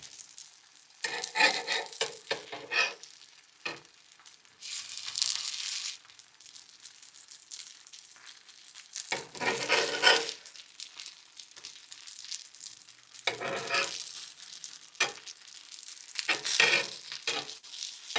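Rice paper dumplings crisping in a hot pan, loud bursts of sizzling and crackling that come and go as they are stirred and turned, with quieter gaps between.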